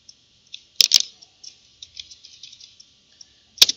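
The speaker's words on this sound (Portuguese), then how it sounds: "dou um Enter." Sharp clicks and clacks from a computer keyboard during poster design work, scattered light taps with a couple of louder double strikes near the start and one firm press near the end, alone without talk.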